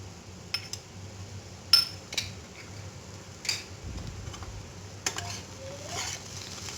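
Potato stuffing sizzles in a frying pan while a utensil stirs it, giving a soft continuous fry under scattered clicks and scrapes against the pan, several sharper knocks standing out, no talking.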